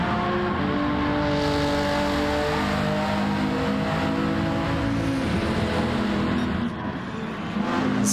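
Renault Megane Trophy race car on the final lap of a racing video game, its engine droning steady and loud at high revs, climbing through the gears with a brief dip near the end and no voices.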